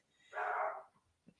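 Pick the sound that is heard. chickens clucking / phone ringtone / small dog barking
small dog barking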